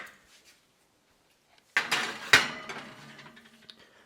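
A baking pan of brookies slides into an oven set to 375 degrees, giving a sharp metallic clank, then a second clatter and a lingering rattle, close by with no talk.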